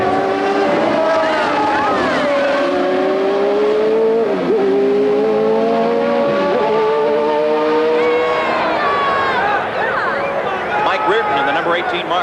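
Race car engine revving hard on a track, a loud sustained whine rising and falling in pitch throughout, with other cars passing and radio voices talking over it.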